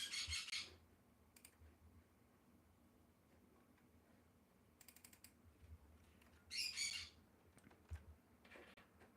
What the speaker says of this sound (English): my bird is going crazy